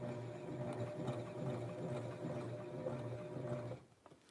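A sewing machine stitching the collar and sleeves of a Barbie doll's western blouse, running in a steady rapid whir for several seconds, close and clear, then stopping abruptly.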